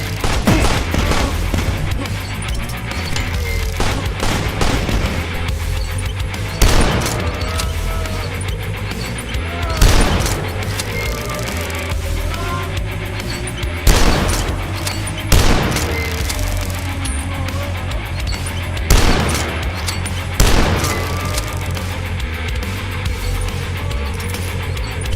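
Gunfire in the fast retro shooter DUSK on hard difficulty, with repeated loud bursts of shots and impacts cracking out over a constant droning game soundtrack, the heaviest volleys spaced every few seconds.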